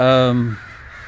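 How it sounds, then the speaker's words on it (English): A single loud, close crow caw, harsh and drawn out, fades into quiet outdoor ambience. "boy, the crows are here in force again"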